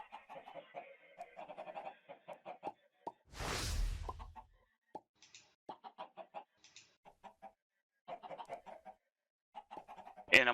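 Chickens in the Minecraft modpack StoneBlock 3 clucking in short, scattered bursts with pauses between, plus a soft rushing whoosh partway through and a sharp pop at the end.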